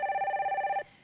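A telephone rings for a call-in line on a Korean stock-market broadcast, a single close electronic trill of fast pulsing tones lasting under a second before cutting off, with no talk.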